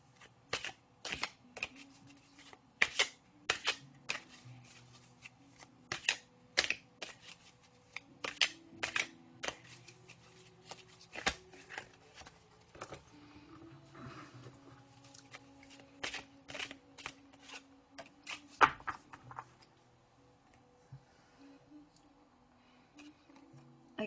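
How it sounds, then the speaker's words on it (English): Goddess Oracle cards are shuffled and drawn at a quiet table, with soft, irregular papery riffles and taps repeating throughout amid faint background hum. "What I'm being asked is to pull out another card from the Goddess Oracle."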